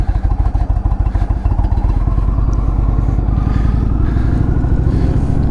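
A custom 2019 Indian Chieftain Dark Horse motorcycle rides along with a loud, close, deep rhythmic engine thump, pulsing steadily with slight rises in pitch.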